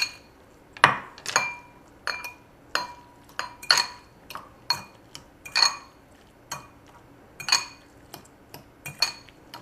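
Tomato, lime and cilantro salsa stirred in a bowl: a steady series of about a dozen sharp clinks as the utensil strikes the bowl, close and fairly even in rhythm, with no talking.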